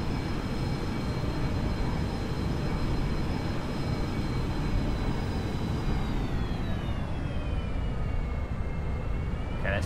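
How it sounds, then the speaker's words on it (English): A simulated airliner in X-Plane 11 comes in to land, giving a steady, loud engine whine and rushing roar whose pitch drops partway through, with no voices. "we've got another plane coming in to land here"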